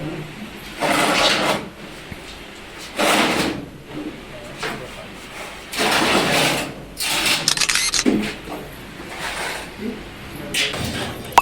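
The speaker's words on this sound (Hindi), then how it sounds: "तो पहले कैबिनेट खोल रहे हैं।" A metal cabinet of a Voltas 1.5 ton window air conditioner being opened, with several broad scraping, sliding metallic bursts spaced across the stretch over a low background hum.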